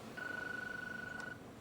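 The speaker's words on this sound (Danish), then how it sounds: "Og nu ringer telefonen." A telephone ringing in a DSB S-train command post: a single steady electronic ring tone lasts just over a second, moderately quiet against a low background hum.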